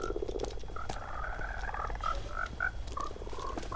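Frogs in the Minecraft video game croak repeatedly in short, hollow, uneven calls, several overlapping at moderate volume over a low steady background hum, with no talking.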